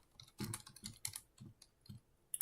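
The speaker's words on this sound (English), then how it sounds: "gonna type right here" Quiet computer keyboard typing, irregular soft clicks and key taps in short bursts, close but low in level with no talking.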